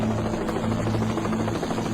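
A rescue helicopter on a light flight near Anchorage drones steadily and loudly, its rotor and engine hum continuous and unbroken with no talking.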